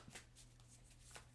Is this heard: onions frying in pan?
no